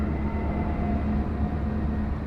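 A coal train rolls along tracks beside the Moray High football field near Norfolk Southern's coal export terminal at Lamberts Point, giving a steady low rumble with tonal rail hum that stays constant and fairly close throughout.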